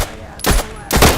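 Two loud, close pistol gunshots from a sniper ring out in the video game Road to Vostok, each a heavy blast with a short tail about half a second apart.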